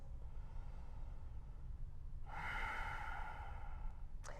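During a yoga stretch, a soft, slow exhale rises over quiet room noise, followed by a brief sharp intake of breath at the end.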